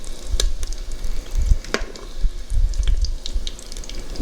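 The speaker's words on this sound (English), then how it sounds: "I'm cooking this bacon just till it's lightly crisp" Bacon frying in an Instant Pot, a crackling sizzle with scattered sharp pops and occasional scraping clicks, close and fairly loud, with no talking.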